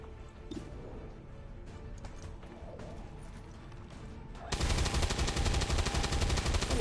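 Sustained automatic gunfire from soldiers in the XCOM 2 video game, a steady rattle throughout that turns into a much louder, dense burst of shots in the last couple of seconds.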